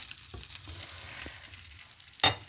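Food sizzling and frying in a hot pan, a continuous close crackle with a few sharp pops and one louder spatter burst near the end, with no talking.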